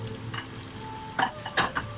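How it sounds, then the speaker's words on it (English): Beef and pork sizzling in a pan for Singapore noodles, a steady low frying hiss with a few sharp stirring scrapes and clatters near the end, no talking. "as that's frying off"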